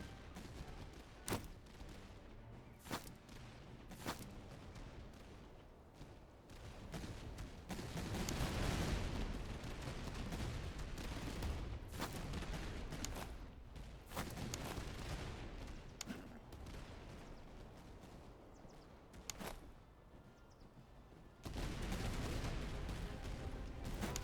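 Sustained battlefield gunfire from the strategy game Master of Command, a dense fusillade of rifle and cannon shots with repeated sharp cracks over a constant rumbling roar, steady and fairly loud throughout.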